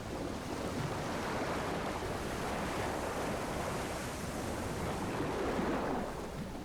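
A Type VII U-boat, U-80, dives beneath the waves in Silent Hunter 3, with steady rushing water and surf-like wash holding evenly for several seconds and no voices.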